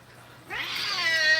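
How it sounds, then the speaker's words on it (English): A single cat gives one drawn-out meow close by that rises and then holds for about a second, after a quiet start. "Oh, he's got the kitty cat."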